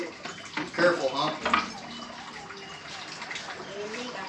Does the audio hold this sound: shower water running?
yes